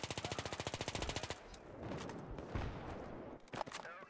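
FAMAS rifle in Battlefield 3 firing a long, rapid burst of automatic gunfire at about 1,000 rounds a minute, loud and close for over a second, then trailing into reverberant echo and scattered battlefield noise.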